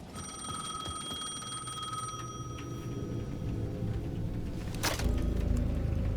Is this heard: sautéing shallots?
no